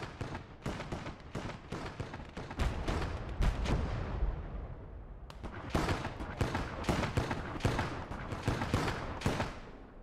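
Dense gunfire in the World War II strategy game Gates of Hell, Finnish side in hardcore conquest mode: rapid overlapping rifle and machine-gun shots and heavier booms, loud and continuous with a brief lull midway.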